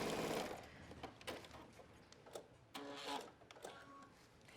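A sewing machine runs in short bursts while stitching a 5/8-inch seam on denim for a pair of shorts, with choppy, uneven runs and brief pauses in between. No voices are heard.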